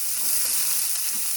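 Frozen broccoli hits a hot oiled pan alongside pot stickers, setting off a loud, steady sizzle and frying hiss that fills the whole moment without a break.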